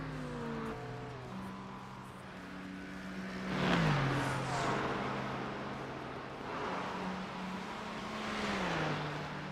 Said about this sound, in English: McLaren is so loud